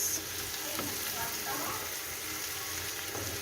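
A curry seasoned with coriander powder is stirred in a pan, making a continuous moderate sizzle with a few soft scraping stirs throughout.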